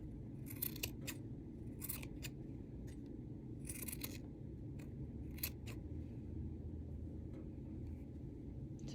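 Scissors snip repeatedly through yarn, trimming a handmade finger-wound pom-pom, with sharp irregular cuts over a steady low background rumble.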